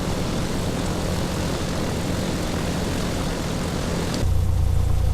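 Piper Comanche 250 in the FSX flight simulator taxiing, its propeller engine giving a loud, steady droning rumble that shifts to a deeper, smoother hum near the end, with no voices.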